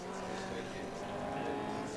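Historic touring race cars circle Sandown International Raceway, a steady distant engine drone at low level while a commentator talks over it.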